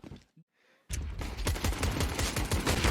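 Rapid gunfire in a Counter-Strike match on the Inferno map: a brief near-silent gap, then a dense, loud fusillade of overlapping shots and bursts that runs on without pause.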